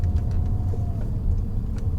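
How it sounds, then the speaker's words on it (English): Peugeot 407 Coupe V6 with a six-speed manual gearbox driving along, a steady low engine and road rumble filling the cabin with no talk. "what I'm driving now is my 407 Coupe V6 manual, 6-speed manual"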